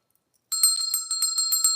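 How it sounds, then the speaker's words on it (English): A hand bell rings in a quick, steady run of about ten bright, clanging strikes close by after a brief silence, with no one talking. "Gina, why are you ringing that bell?"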